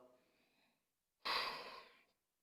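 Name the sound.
breathing during a yoga stretch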